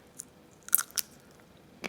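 Crisp bites and crunchy chewing of firm Costco blueberries, a few sharp close-up crunches spaced irregularly in an otherwise quiet setting.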